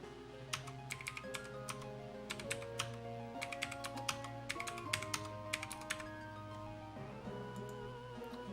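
Computer keyboard typing in quick, irregular bursts of clicks and taps, close and fairly quiet, over a steady background of game music, with no voices.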